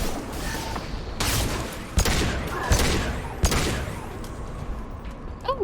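Gunfire from a weapon in the video game Mass Effect 2: several sharp, loud shots spaced irregularly about a second apart, each with a short crackling tail over a steady game background rumble.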